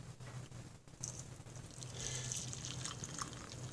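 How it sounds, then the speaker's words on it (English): Black coffee poured into a cup, a soft steady liquid trickle and splash that builds slightly toward the end, heard alone and fairly quiet. "Comfy coffee pouring."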